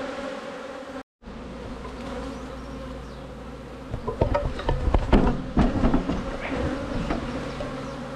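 Honeybees from a blue-marked two-year-old queen's colony buzz steadily around an opened hive, a dense droning hum that swells louder and busier partway through as more insects fly close, after a brief dropout near the start.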